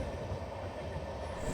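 Maharashtra Express on its first LHB coach run, rolling steadily along the rails near Akola Junction, with a continuous loud rumble and wheel noise throughout and no voices.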